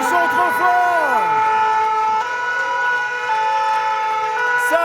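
Fire engine sirens from the Fontvieille fire station in Monaco, with several loud overlapping wailing tones that rise and fall, then hold steady. They are close and continuous throughout.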